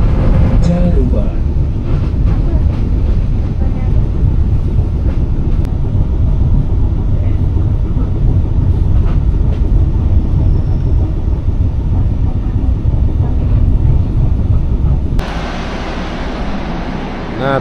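Singasari economy train pulling into Caruban station: a loud, continuous heavy rumble and rolling clatter that runs throughout, then drops to a quieter hum near the end, with voices talking over it.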